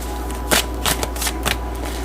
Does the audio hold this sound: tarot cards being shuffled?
yes